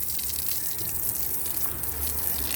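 Water gushing steadily from a hose onto a newly set garden stepping stone, a continuous close splashing rush that holds for the whole stretch without talk.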